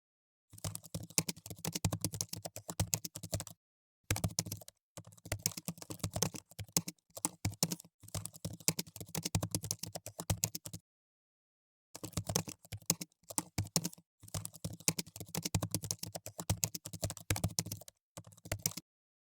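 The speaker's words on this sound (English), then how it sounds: "Now let's type our prompt to suggest some good titles." Someone types a prompt on a computer keyboard in a steady, close clatter of rapid keystrokes, broken by a few brief pauses and with no voices.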